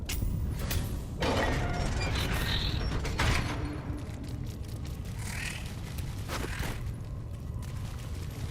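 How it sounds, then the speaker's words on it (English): A door creaking open, slow drawn-out groans and squeaks spread across several seconds with a mechanical, strained character and no talk. "You must open the door."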